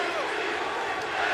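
Arena crowd at the Rose Garden during an NBA game, a dense steady roar of many voices chanting together, loud and continuous throughout.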